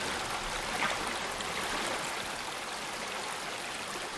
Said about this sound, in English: The water's really loud too.